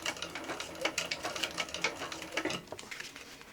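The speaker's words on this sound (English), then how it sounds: "we're gonna just stitch 1/8 of an inch away from this seam" A sewing machine stitching a backpack seam 1/8 inch from the edge, a rapid close rattle of needle strokes running steadily before slowing and easing off near the end.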